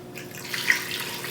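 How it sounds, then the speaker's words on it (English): Water pours steadily into a pressure cooker holding pig tails, a short continuous splashing rush heard up close with no talk. "Let's get some water in there."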